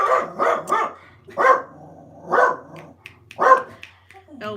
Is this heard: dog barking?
yes